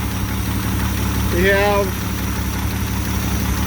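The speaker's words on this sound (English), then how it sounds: "started the engine. I got the thing warmed up." An old car engine idles steadily while warming up, a continuous mid-pitched rumble close by with a brief voice speaking over it.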